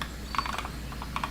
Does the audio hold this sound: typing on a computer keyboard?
yes